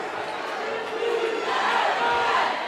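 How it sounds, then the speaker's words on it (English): Crowds from two high school teams chanting in a gym before a boys' basketball game, a dense steady roar of many voices that swells slightly toward the end and carries no clear single words. "The Del Campo crowd, they're chanting. The Bella Vista crowd, they're chanting. Lots of chanting going on."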